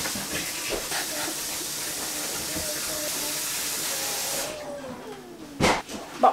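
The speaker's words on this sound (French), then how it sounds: "Je vais commencer à faire cuire ma viande." Meat starts cooking in a hot pan with a loud, steady hiss and sizzle that runs for several seconds, then quiets down and ends with a couple of clattering utensil knocks.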